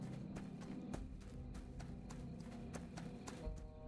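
Horse hooves clopping in a steady rhythm in the video game Ashes of Creation, the mount moving through water under large waves, mid-loud over a continuous low rumble of sea and game ambience, no talk.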